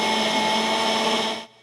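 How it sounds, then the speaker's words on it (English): A blender whirs steadily as it purees a green, mostly kiwi Halloween punch, a loud continuous motor drone with a harmonic whine that cuts off abruptly near the end. "Rebecca Sarad is preparing something in a blender, mostly made of kiwi, that looks suspiciously like Ghostbusters slime"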